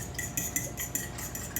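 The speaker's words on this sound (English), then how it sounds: "we're going to go ahead and whisk the eggs" A whisk clinks steadily against a bowl as eggs are beaten for brown sugar apple cinnamon muffins, a quick regular tapping rhythm, quiet and close.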